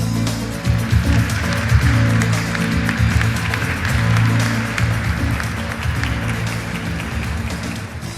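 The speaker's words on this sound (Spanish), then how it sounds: "Recibamos con un fuerte aplauso a Soledad Barruti." Applause rises from a conference audience welcoming a speaker on stage at a food and environment congress, a dense, steady wash of many hands clapping that holds for several seconds before tapering slightly.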